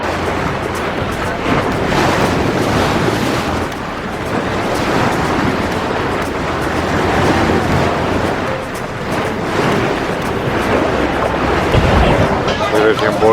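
A boat rocking on open sea during an islands cruise near Dubrovnik's Elaphite Islands: steady loud wash of waves and wind buffeting the microphone throughout, with no clear talk.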